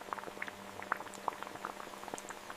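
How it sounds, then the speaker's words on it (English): Pringles chips fry in a hot oil bath, giving faint, scattered crackles and small popping bubbles, soft and close with a sharper pop at the end. "The chips enter the high-temperature bath. The bubbles indicate the rapid escape of moisture"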